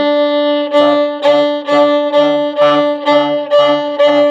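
A bowed violin sustains a steady low open D string note in even eighth-note pulses, about two strokes per second, clear and close with no talking.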